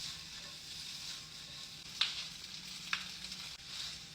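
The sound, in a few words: gnocchi frying and crisping in a pan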